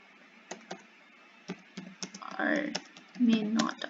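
Typing on a computer keyboard while a Google Forms description is written, a series of crisp isolated key clicks at an uneven pace, with someone speaking briefly over the later taps.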